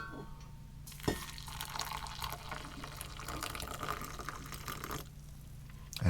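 Piping hot water poured to make coffee with a Swedish 24-hour field ration, a steady close trickle and splash filling a cup, with a sharp knock near the start and a clunk at the end.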